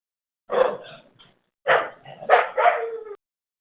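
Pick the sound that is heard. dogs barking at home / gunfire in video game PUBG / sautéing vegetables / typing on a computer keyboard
dogs barking at home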